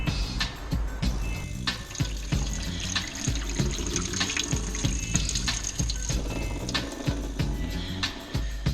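Water pours steadily as cooked macaroni is drained, a continuous splashing rush with small clinks from a pot or strainer, close by and with no talking.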